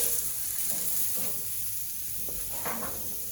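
A ribeye steak sizzles on a Char-Broil infrared grill, a steady close hiss of fat crackling with a few brief pops and spits, and no voices.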